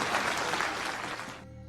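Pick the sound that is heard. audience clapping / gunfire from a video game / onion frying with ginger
audience clapping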